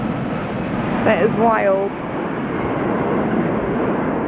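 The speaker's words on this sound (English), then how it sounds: "There's an airplane going by." A fixed-wing airplane passes overhead on a cold day of heavy snow, a broad steady roar heard outdoors while a person talks briefly over it.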